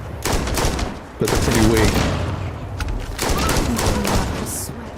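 Gunfire in the Starfield video game comes in dense rapid bursts of loud shots across two main volleys, with a voice speaking briefly between them.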